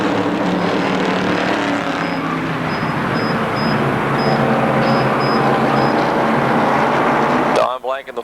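Race cars at Motordrome Speedway, a loud, steady engine roar through most of the clip as the pack runs bunched together, with a commentator talking over it. The engine noise cuts off abruptly near the end.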